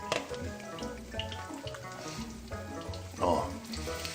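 Italian fried tomatoes sizzle and crackle in a hot pan, a steady frying hiss with a brief louder burst of spitting near the end, under faint background sounds.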